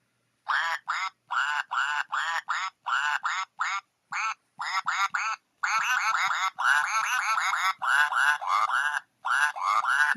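Toy chicken puppet singing a tune in quick, bright, squawky electronic chirps, in short bursts at first and then longer runs, loud and close.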